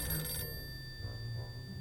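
Telephone bell ringing loudly for a brief burst and then cutting off, leaving a low steady hum with no talk.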